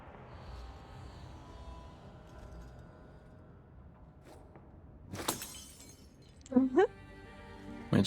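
Glass shattering in the video game Dragon Age 2, one sudden sharp crash midway through a quiet stretch of speech, followed by short bright clinks and ringing tones.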